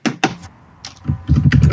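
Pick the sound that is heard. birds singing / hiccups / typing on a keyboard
typing on a keyboard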